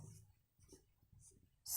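Chalk or marker taps and scratches in short strokes on a board during a chemistry lesson, quiet and close, in a few separate bursts followed by a louder scrape at the end.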